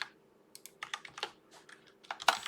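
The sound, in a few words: typing on a computer keyboard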